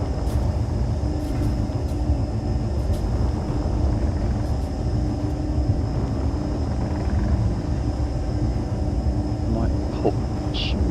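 Spaceship thrusters in Space Engineers burn with a steady, loud, broad roar while the ship docks, continuous throughout with faint clicks and small tones, and someone talks over it.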